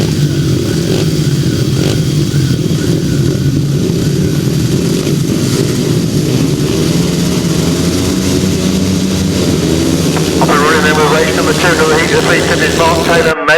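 Pack of 350cc grasstrack motorcycles roars off the start of a race, a loud continuous engine din with rising revs near the end, under a commentator's voice.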